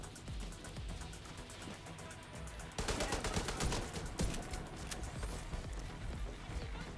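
Rifle gunfire in The Division 2, rapid, loud bursts of shots in close succession, growing denser and heavier partway through over a constant game background.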